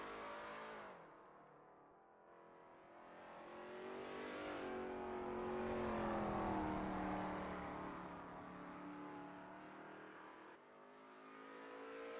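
Lola T70 MkII Spyder race car warming up at Road America, its engine note climbing and swelling in pitch over several seconds and then easing off, heard on its own without voices.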